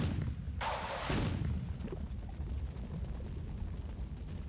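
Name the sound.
rocket explosions in a video game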